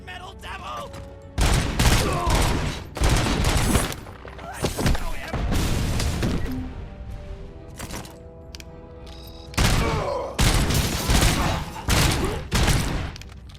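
Gunfire in the RoboCop: Rogue City video game: rapid bursts of shots and fusillades in several loud clusters, with brief pauses between volleys and voices talking in between.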